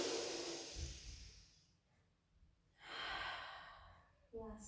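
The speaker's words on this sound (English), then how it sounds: "Inhale, let the belly rise into a belly breath. Out breath." Slow, deep belly breaths, each a long airy inhale swelling then a drawn-out exhale, close and soft, repeating with quiet pauses between.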